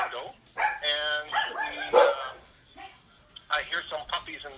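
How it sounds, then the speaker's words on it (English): Small dogs barking and yipping in bursts somewhere off to the side while someone talks over them, the barks partly mixed in with his voice. "I hear some puppies in the background."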